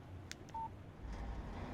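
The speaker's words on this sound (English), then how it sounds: "Text message from Barry." Alan Wake Remastered plays a short text message alert on a phone, a couple of quick electronic beeps, faint and brief against quiet game ambience.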